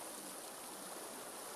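A river streams steadily along below a roadside parapet at a swimming spot, a continuous broadband rush of flowing water with no voices, quiet and even throughout.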